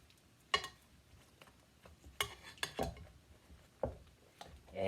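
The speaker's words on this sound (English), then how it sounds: "Okay, and we're going to mix it all together." Vegetables being tossed with vegetable oil in a bowl for moussaka, a few sharp clinks and knocks of a utensil against the dish spaced irregularly over a quiet background.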